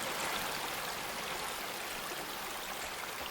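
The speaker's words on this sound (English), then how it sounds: "I think it was the water." Continuous broadband rush of flowing water in the video game NUTS, steady and fairly loud like a stream or small waterfall, with no voices or other sounds.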